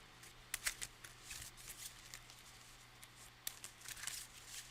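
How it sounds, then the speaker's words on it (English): Cards being shuffled in a Magic: The Gathering digital game, soft quiet riffling bursts in short clusters with pauses between, faint and close. "I want to shuffle the Coastal Discovery into my library."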